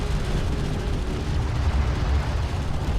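A steady, heavy rumble of explosions and artillery fire in the real-time strategy video game Deserts of Kharak, booming continuously and loudly with no break.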